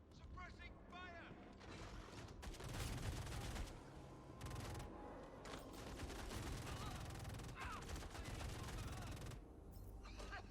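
Bursts of sustained video game gunfire roll on through much of the stretch, dense and fairly loud, with spoken voices mixed in among the shots.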